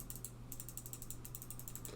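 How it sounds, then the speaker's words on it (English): Rapid series of crisp, quiet left-button clicks on an Xtrfy MZ1 gaming mouse, about a dozen light ticks in quick bursts, heard close up over a low steady hum. "Here's a sound test for those of you interested of the left click"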